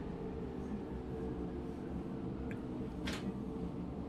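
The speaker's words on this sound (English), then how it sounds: "And yes, it is a little tiny train," A small subway train rolls along in the SubwaySim 2 simulator, a steady low rumble of wheels and motor running throughout, with a brief higher hiss near the end.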